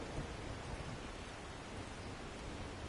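Steady rain with a low thunderstorm rumble in the 7 Days To Die game world, a continuous broadband wash of falling water heard faintly and evenly throughout, with no voices.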